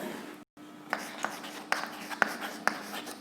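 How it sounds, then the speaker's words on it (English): Pen or chalk writing out a maths working for a tower's height in a classroom, heard as a string of light scratchy strokes and taps after a brief pause, close and quiet, with no talk. "Let us write here."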